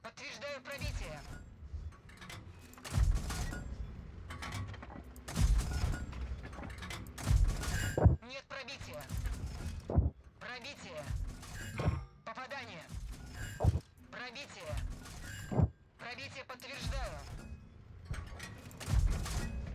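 Tank cannon shots in World of Tanks while driving a T-50 come as repeated sharp booms at irregular intervals, mixed with engine rumble and heard under frequent talk.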